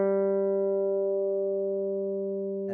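Guitar's open third string plucked once on a G note, a clean single tone that rings and slowly decays over nearly three seconds, close and fairly quiet, with a faint touch at the very end.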